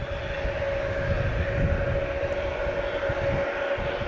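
A jet airliner takes off at night from Logan Airport, heard as a steady, loud engine roar with a constant whine, sustained and unbroken throughout with no talk.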